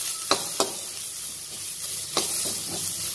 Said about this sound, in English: I turn it around so that the hot oil is now coated on the carrot